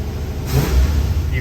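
A 1975 Lincoln engine blipped at the throttle, one quick loud rev swelling and falling back within a second, heard close up.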